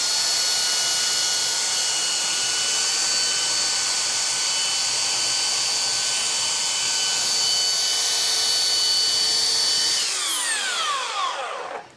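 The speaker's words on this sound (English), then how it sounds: "and then I'm just going to kind of sand, trying to hold this as straight up and down as I can" A power sander running steadily on a wooden raccoon stretcher board, a loud continuous high whine and grind that holds for about ten seconds before spinning down.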